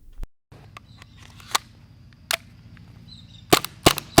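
An Action Army AAP-01 gel blaster pistol fires gel balls in sharp, snappy cracks: two well-spaced single shots, then a quicker pair close together, over a low mechanical hum.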